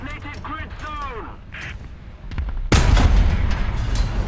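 A tank cannon fires in the War Thunder video game, with a French AMX-50 in a match, as one sharp, loud blast with a rumbling tail that follows a stretch of speech.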